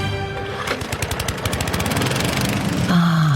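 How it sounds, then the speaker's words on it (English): Lawnmowers run on a cruise ship lawn at sea, a steady, loud, rattling engine drone with rapid pulsing that ends abruptly in a sustained tone. "There's only one place you'll hear lawnmowers this far from land"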